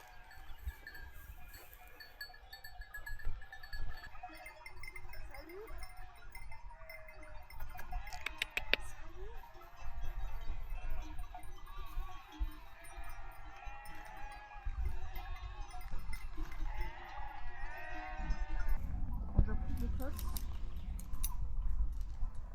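Sheep in a flock bleating: a series of wavering calls, some near and some further off, over a soft outdoor background with faint murmurs of people and occasional rustling.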